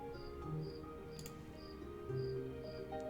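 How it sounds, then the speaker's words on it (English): A cricket chirps in short, evenly spaced bursts, faint and somewhat distant, over a low steady background hum. "Can you hear that cricket?"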